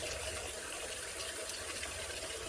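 Water runs steadily from a tap while a soapy sponge scrubs a part of a Tribest Slowstar slow juicer, a faint, even wash of flowing water with no talk.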